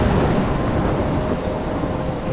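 Thunderstorm in a horror video game, a steady loud roar of rolling thunder and heavy rain filling the whole stretch without pause.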